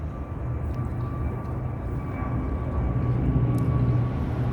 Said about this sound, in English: That's the audible noise as though a plane is taking off